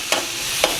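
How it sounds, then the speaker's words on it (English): Philly cheesesteak meat sizzles loudly on a hot griddle with a steady hiss, broken by two sharp scraping clacks as spatulas chop through it. "You can hear it sizzling."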